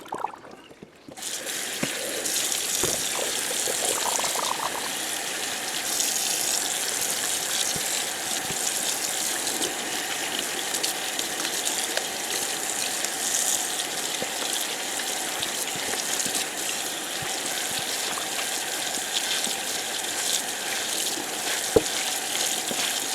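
Running water rinses tie-dyed fabric during washout, a steady, hissing stream from a tap that carries on without a break for over twenty seconds, with a few faint knocks.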